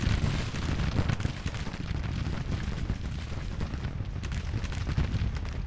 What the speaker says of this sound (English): Gonna fire canister now into them.